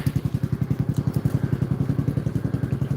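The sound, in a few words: tractor engine running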